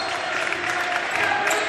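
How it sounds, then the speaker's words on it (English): At a high school basketball playoff semifinal with limited attendance, the team benches cheer and clap to simulate crowd noise, a continuous bright wash of shouting and applause over the short stretch. "trying to simulate as much crowd noise as they can"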